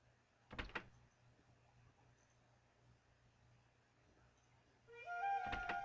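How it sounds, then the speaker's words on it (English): A door is unlocked in the video game Suikoden: a pair of quick clicks, a quiet pause, then a rising tonal chime with another sharp click at the end. "I'll unlock the door."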